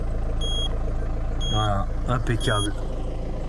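A 2001 Citroën C5 engine idles with a steady low hum under reversing-camera beeps and a short stretch of speech, close and constant throughout.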